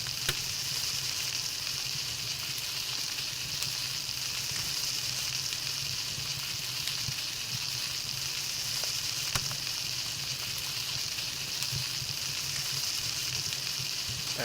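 Roast Eichterdeer slowly cooking over a campfire in Palworld, a soft, even sizzle and crackle that holds steady and fairly faint throughout with no other sounds.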